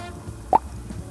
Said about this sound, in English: Cork pops.